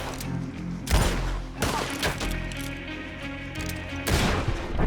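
Gunfire in Red Dead Redemption 2, with several loud close shots cracking out at irregular intervals, each ringing into booming echoes over a low rumbling background.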